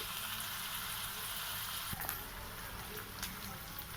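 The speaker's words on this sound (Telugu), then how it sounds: "నెత్తళ్ళు ఎర్రగా వేయించుకోవాలండి" Dried anchovies (nethallu) frying in a pan, a steady close sizzle with soft crackling pops running through the whole stretch, with a couple of brief sharper spits partway through.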